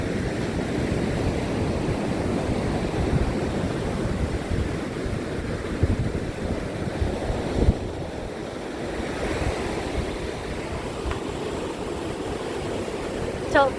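Ocean surf washes up a sandy beach in a loud, continuous roar, with waves surging and receding under gusty wind buffeting the microphone and no talking.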